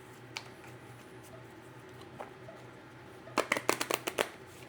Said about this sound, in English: Shuffle them into the deck.